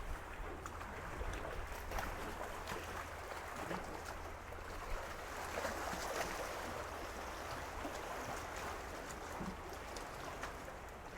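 Small waves wash steadily against a shoreline beside a set of steps leading down to the water, a continuous even splashing with no voices.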